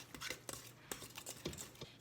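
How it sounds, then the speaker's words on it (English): A spoon clacks and scrapes against a bowl while stirring whole-grain bread dough ingredients with salt added, a quick run of sharp, irregular knocks close by. "we're gonna stir this up."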